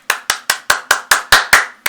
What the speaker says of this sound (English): I'm getting these hand claps like,